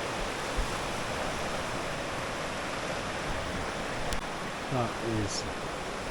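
Fast-flowing mountain river rushing steadily as a dense, continuous broadband roar, with a voice speaking briefly over it.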